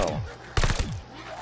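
A PPH gun in Vanguard Zombies fires a short burst of several rapid shots over steady game background noise.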